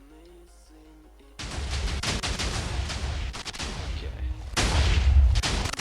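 Video game one-shot nuke cannon firing: a sudden loud blast opens a dense, sustained roar of booming rumble that swells again near the end, following a quiet stretch with a brief spoken word.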